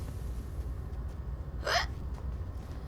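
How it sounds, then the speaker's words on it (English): A single sharp hiccup, close and brief, rising out of a quiet low background hum with no speech around it. "I have the hiccups."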